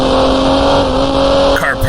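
Race car engine in the racing video game GT Racing 2002, holding a loud, steady high-pitched drone at flat-out revs with a brief dip near the end, close and continuous.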